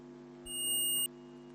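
A digital multimeter in continuity mode is testing a shorted internal diode between the collector and emitter of a transistor. It gives a single short, clear high-pitched beep of about half a second over a low electrical hum.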